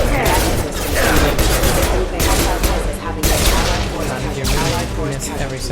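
Rapid bursts of gunfire in the Mass Effect 2 video game, with repeated sharp shots over a constant loud battle din, while people talk throughout.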